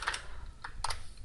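Typing on a computer keyboard while writing text into Word 2016 columns, with a few quick, crisp key clicks in an uneven rhythm, close and moderately soft.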